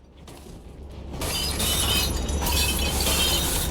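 Glass shattering in the cleanup game Viscera Cleanup Detail: a quiet opening, then a bright crash that swells into a sustained burst of breaking, tinkling debris, loud and close with no talking.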